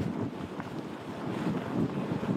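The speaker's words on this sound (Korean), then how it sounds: "전남 이쪽엔 순간 최대 풍속 초속 30-40m의 강한 바람이 불고 있는데요" Strong typhoon wind roaring across a harbour in Mokpo, South Jeolla, where fishing boats crowd together for shelter; a loud, steady, gusting rush of wind buffets the microphone throughout, with no voices.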